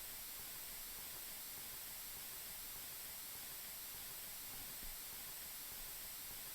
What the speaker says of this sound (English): it's like constant little interference you can hear when you hear my voice